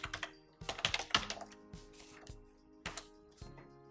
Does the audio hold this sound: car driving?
no